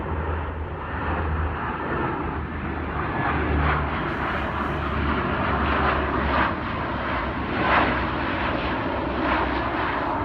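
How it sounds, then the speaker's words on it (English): A large military transport plane drones overhead, its deep, loud engine roar swelling and holding steady for several seconds as it passes low near a warehouse. "I think that was one of those monster transport army planes"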